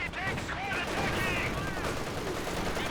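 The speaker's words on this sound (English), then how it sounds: "1 MG trying to hold the line against the entire army of RedBjarne" Machine-gun fire rattles through a Company of Heroes battle, rapid bursts layered with other gunfire and combat noise, steady and dense for the whole stretch.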